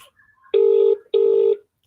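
A telephone number being dialed to call a member of parliament: two long, loud touch-tone beeps, each about half a second, separated by a short gap, close and clear with no talk.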